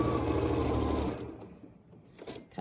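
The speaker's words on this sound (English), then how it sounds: "So now I'm going to go back over to my machine and I'm just going to sew along this edge." A sewing machine runs loudly and steadily while sewing along the edge of a small patchwork bag, then stops abruptly after about a second, leaving quiet handling noises.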